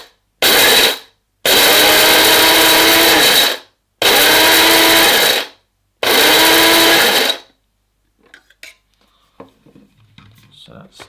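A Shardor electric coffee and spice grinder runs in four loud, whirring bursts of about one to two seconds each, separated by short pauses. Faint rattles and handling noises follow.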